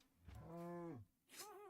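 A cow in the video game Minecraft moos once in a drawn-out, tonal call, followed by a shorter, rising second moo; both are clear and close with no talking.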